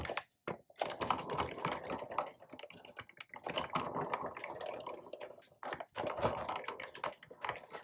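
A Sizzix die-cutting machine cranks a paper sandwich with a die and cutting pad through its rollers, giving a steady grinding, clicking rumble that runs nearly continuously with a few short pauses, close and moderately loud.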